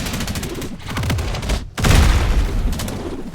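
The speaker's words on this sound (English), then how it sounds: "First ability, bullet barrage." Bullet barrage ability in the Roblox game The Strongest Battlegrounds: a loud, dense burst of rapid-fire shots with booming impacts, pausing briefly before a heavier second volley.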